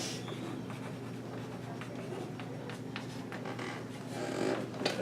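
Pen or marker writing out the domain of a reciprocal function by hand, a steady scratchy stroking with short pauses between strokes, close and continuous over a low background hum.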